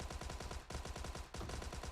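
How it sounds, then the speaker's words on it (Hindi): Gunfire in PUBG Mobile: rapid automatic bursts rattle steadily with brief breaks, fairly distant and faint. "और तभी मेरे को एक और फायर आता है"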